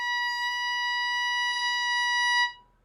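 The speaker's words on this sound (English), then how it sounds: "let's put our violins up and let's start by playing the note B natural." Violin holding a single sustained B natural on the E string, a steady bright bowed tone that lasts over two seconds before stopping cleanly.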